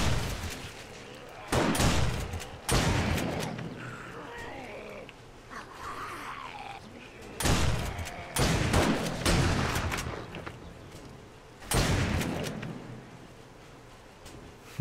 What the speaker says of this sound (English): You guys can hear all that shotgun action.